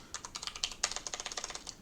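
Fingers type on a computer keyboard in a quick, fairly even run of close, soft clicks lasting under two seconds, with no talking.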